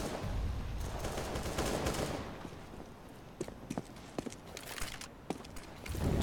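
Gunfire in Counter-Strike: Global Offensive during a competitive esports match, a scatter of sharp single shots and short bursts over a low rumbling backdrop, with a loud blast at the very end.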